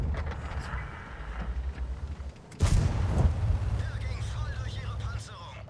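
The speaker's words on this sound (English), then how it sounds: "now I shoot the BUGI again" A tank cannon fires once in World of Tanks, a sudden loud boom that rolls into a sustained low engine rumble. Someone talks over it.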